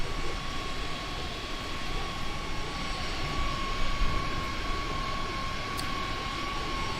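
Airbus A350 jet engines in Microsoft Flight Simulator on a Singapore Airlines flight to Brussels, a steady loud broadband roar with a constant high whine held throughout, no talk over it.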